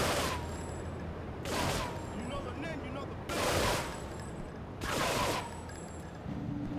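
Bursts of gunfire in the video game GTA 3 come in several loud, roughly evenly spaced volleys, with a voice talking underneath throughout.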